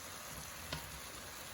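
Bulgogi frying in a pan gives a steady, soft, even sizzle throughout, with one brief sharp tick in the middle and no voices.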